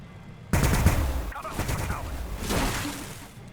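Gunfire rattles through a battle in the Warhammer 40,000: Battlesector strategy game, with a sharp burst opening into sustained overlapping machine-gun fire and shots that keep going to the end, loud and dense.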